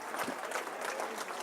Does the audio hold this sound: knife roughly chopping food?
no